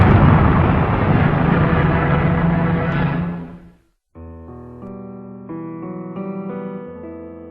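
A Redstone rocket lifting off with a chimpanzee space capsule makes a loud, dense roar that holds for a few seconds and then fades away, giving way to music.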